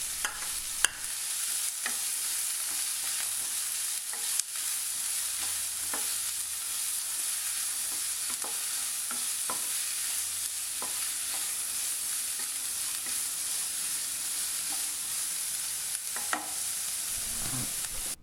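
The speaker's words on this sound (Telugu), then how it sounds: "ఇప్పుడు 1 కప్పు క్యాప్సికమ్, 1 కప్పు క్యారెట్ను వేసి బాగా వేయించుకుందామండి." Capsicum and carrot stir-fried in a pan for Indian-style macaroni: a steady, close sizzle runs throughout, broken by scattered clicks and scrapes of stirring.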